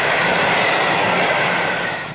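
Class 55 Deltic diesel locomotive No. 12 hauling the East Coast Pullman Farewell train at Ranskill: a loud, close, continuous broadband roar of engine and wheels that holds steady, then fades slightly at the end as the train passes.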